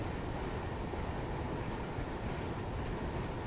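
Gatwick Express train running in Train Sim World 2, a continuous low rumble of the moving train with steady broadband noise and no distinct events, heard alone without voices.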